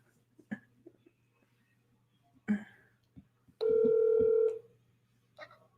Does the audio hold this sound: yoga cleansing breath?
no